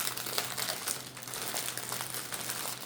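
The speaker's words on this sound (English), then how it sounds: "Sorry about the crinkle." Plastic packaging crinkles steadily and close up while it is opened during an unboxing, a continuous crackling rustle with no pauses.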